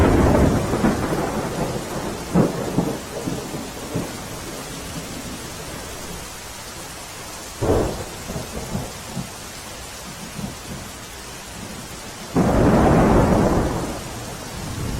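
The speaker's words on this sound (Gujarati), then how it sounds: "લગભગ 3 દિવસથી આ ક્ષેત્રમાં સતત વરસાદ વરસી રહ્યો છે" Heavy monsoon rain pouring steadily during flooding in Junagadh, with loud rumbles and cracks of thunder breaking through several times, including a strong burst near the end.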